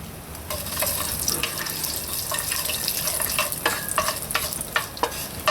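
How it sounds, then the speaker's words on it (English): Cumin (geera) and fenugreek (methi) seeds fry in warm oil for a curry chicken, giving a steady close sizzle with scattered crackles and pops and light stirring clicks, with no talking. "Once your oil is warm, add in your Geera seeds and methi or fenugreek seeds."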